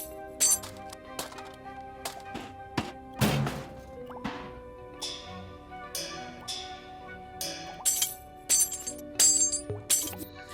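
Metal chain collision sound effects in Dreams on PS4, a string of sharp clinks and rattling knocks at irregular intervals, fairly light and close, with no one talking.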